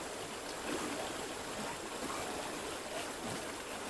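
Water from a river stream rushes and gurgles steadily at close range during a crossing on foot toward a fish pond, a soft continuous flow with faint splashes.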